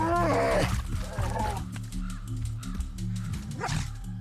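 Wolves snarl and bark while attacking brown bears in the winter wild, a close, harsh flurry of growls and yelps with deep rumbling underneath.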